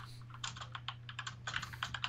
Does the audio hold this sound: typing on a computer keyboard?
yes